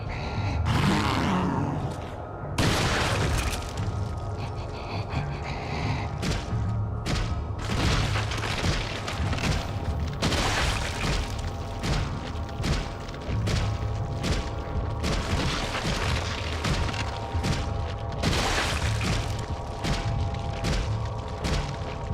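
Fire grenades go off in Resident Evil 4 on the Wii, with repeated loud booming blasts and roaring bursts. Rumbling game sounds and occasional grunts fill the gaps between them.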